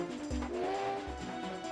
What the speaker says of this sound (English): Right now, all we can do is just whistle and hope it goes away.